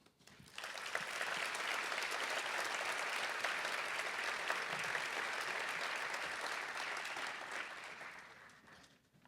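An audience claps to welcome Regent Jimmy Harrel to the stage at an Oklahoma veterinary celebration: dense, even applause swells quickly, holds for several seconds, then tapers off, with no voices over it.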